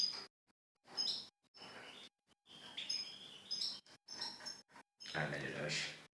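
A mated pair of goldfinches chirp in short, bright bursts during their July courtship, the calls coming in scattered clusters with brief silences between them, a little louder near the end.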